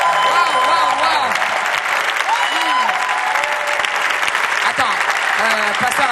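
A church congregation applauds loudly and continuously throughout, a dense wash of clapping with crowd voices and cheering mixed in.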